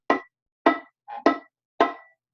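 Four short plucked violin string notes with a buzzy rattle from a finger touching the D string, evenly spaced and close, plus one softer muted pluck between them.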